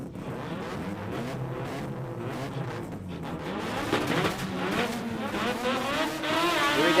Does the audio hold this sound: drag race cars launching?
yes